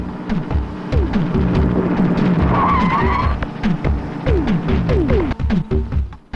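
A car drives fast, engine revving in repeated rising sweeps with tyre squeal, loud and close throughout with no speech.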